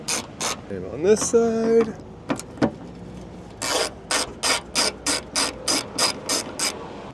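A ratchet wrench clicks in quick bursts while removing Torx bolts on a 20-year-old Dodge truck, with a short mechanical whir early and a steady series of close ratcheting strokes later; someone speaks briefly.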